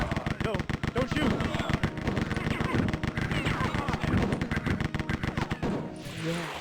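Rapid gunfire bursts from a video game level, dense and loud throughout, with crackling shots layered over game sounds before a brief lull near the end; a voice talks over it.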